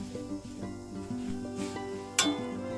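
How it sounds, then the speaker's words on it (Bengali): Duck egg chops fry in a little oil in a wok, giving a low sizzle with scraping turns and a sharp utensil clink near the end, over musical tones. "সাবধানে উল্টে পাল্টে ভেজে নিলাম।"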